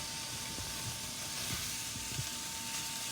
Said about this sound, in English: And add the beef to the pan.